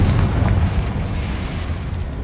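Blast from the Confringo spell in the Hogwarts video game, a rumbling explosive boom that fades into a low roar, with no talk over it.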